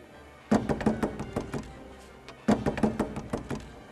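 Two bursts of firm knocking on a door, each a quick run of several raps, separated by a short pause, close and clear with no talk.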